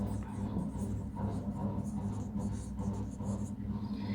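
Marker or chalk writing on a board during a Hindi zoology lecture on the Fasciola hepatica body wall, a steady close scratching and tapping of strokes running under a low hum for the whole stretch.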